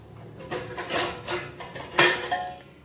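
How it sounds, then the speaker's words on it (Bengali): A lid set down over a bowl of spice mix for a hilsa fish recipe, making a string of close, light clinks and knocks as it settles, the last one sharpest, with no voices. "একটি ঢাকনি দিয়ে এই ঢাকা দিয়ে রেখে দিলাম এই মশলাটা"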